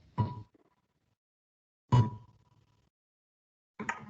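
A faint plucked guitar harmonic rings out three times with long silent gaps between, each note a soft bright ping that fades quickly.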